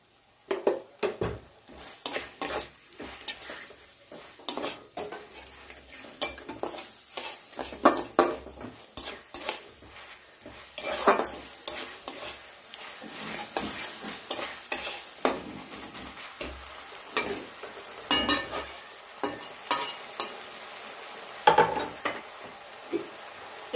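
Masala of chopped tomatoes and salt stirred and fried in a pan for potato dum, a steady sizzle broken by repeated scraping and clinking of a spoon against the pot, close and fairly loud, with no talking.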